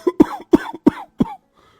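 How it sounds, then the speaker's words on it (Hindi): An old man lying on a wooden cot coughs in a series of four or five harsh, close bursts spread over about a second and a half, then falls silent. "तभी खटिये पर से बूढ़ा रामा खांसते हुए"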